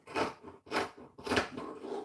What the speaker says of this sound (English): I'm gonna come here and cut the back neck like this